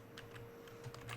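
A few quick keystrokes on a computer keyboard, faint and close, over a low steady hum, with no talking.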